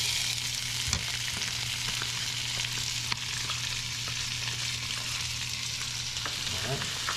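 Garlic fries in coconut oil in a pan with a steady, loud sizzle, broken by a few scraping stirs of a utensil and no talking.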